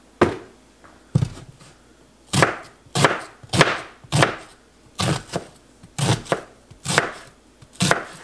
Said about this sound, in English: So I am just chopping up some garlic, onion, and celery